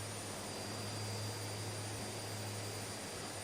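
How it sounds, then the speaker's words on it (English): A float plane's engine drones steadily in flight over Lake Lugano, a continuous, fairly loud hum with a strong low tone and constant broadband roar that holds unchanged throughout, with no voices. "I love having a float plane here because I could just land whenever I want to."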